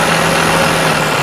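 Loud steady diesel drone from an IVECO S-Way truck engine with the throttle raised, a sustained tone holding through the short stretch, close and alone without voices.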